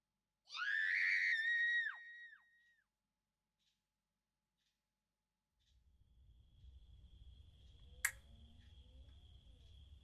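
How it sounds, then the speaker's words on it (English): Woman's high-pitched scream in an audio drama, one loud wavering cry lasting over a second, then silence, followed by faint low ambient rumble, a soft tone and a sharp click. "That's Susie's scream."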